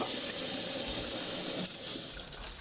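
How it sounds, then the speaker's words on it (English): A toilet flushes in the video game The Cat Lady, a loud, steady rush of water that lasts for a couple of seconds with a slight change partway through. "Flush."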